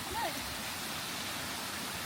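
A gushing waterfall near Ben Nevis in Scotland roars as a steady, dense broadband rush, close and constant throughout with no break.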